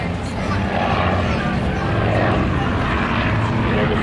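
A P-51C Mustang propeller fighter in Tuskegee Airmen markings drones overhead at an air show, its engine roar loud and steady throughout, with the pitch shifting a little as it passes.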